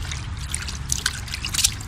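Water trickles and drips steadily while laundry is rinsed and wrung by hand, close up with small splashes and no talking.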